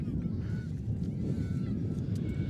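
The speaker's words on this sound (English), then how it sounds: "Canadian Geese have now moved to another spot a little bit deeper." Canada geese honk beside a baseball field during a Skowhegan at Oxford Hills playoff game, a loose chorus of repeated honks in the distance over steady crowd and field noise.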